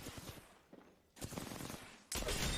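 Gunfire from the Apex Legends shooter plays as a few sharp bursts of shots separated by short lulls, ending in a loud sustained volley.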